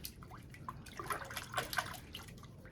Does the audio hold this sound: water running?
yes